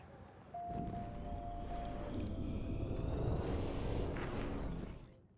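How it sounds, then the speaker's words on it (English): A small toy drone, a high-fly model B400 EVO in Life is Strange Remastered, whirs into flight with a steady buzzing hum that swells, holds for a few seconds, then fades out, under a voice speaking. "That looks like a high-fly drone."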